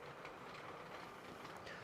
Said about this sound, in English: yellow passenger train making its way around the train track